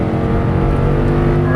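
An Audi R8 engine accelerates hard on a race track, a loud, close, rising roar that runs steadily through a short burst.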